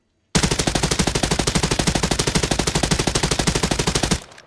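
A silenced PK machine gun fires fully automatic in Arena Breakout Infinite: a long, steady, rapid burst of evenly spaced loud shots lasting about four seconds, then stopping with a short fading tail.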